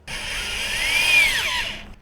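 Large drill with an auger boring into a compost pile, giving a steady high whine for about two seconds that swells slightly in the middle, then cuts off. No talking.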